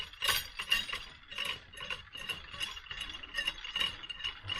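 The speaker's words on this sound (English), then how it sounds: "And you just turn this nut." A hand ratchet turning a nut on a vehicle's clutch assembly, giving a steady run of quick metallic clicks and clinks, close up with no talking.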